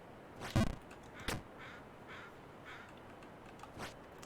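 Crow caws from the video game Jump King: two short, fairly loud calls close together early on, followed by fainter scattered bird sounds over a quiet, hissy background.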